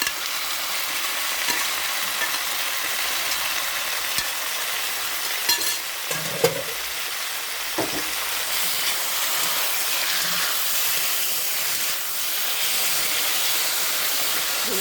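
Cooked beef sizzles steadily in a pan with garam masala powder and coconut oil, a dense continuous frying hiss with occasional stirring clicks and scrapes, close and fairly loud with no talking.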